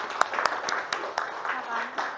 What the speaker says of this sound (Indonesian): Beri aplaus dulu untuk kelompok 5.